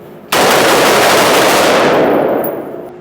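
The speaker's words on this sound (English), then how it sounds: "we just got done shooting left to right" Rapid, loud burst of AR-15 rifle fire while the shooter moves left to right, a dense continuous string of shots starting abruptly and running about two and a half seconds before tapering, with no talk.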